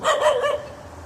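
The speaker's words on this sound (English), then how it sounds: "go get your dog" A single dog barks twice in quick succession, fairly close and loud, the barks fading out over the last half second.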